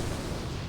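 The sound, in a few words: Fire Nova totem explosion in video game World of Warcraft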